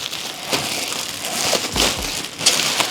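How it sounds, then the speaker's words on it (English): Plastic wrapping is ripped and peeled off a Lian Li O11 Dynamic Evo PC case, making close, crinkly tearing and rustling bursts in uneven spurts. "So I'm gonna take out the wrapping and everything so you guys see what I'm talking about."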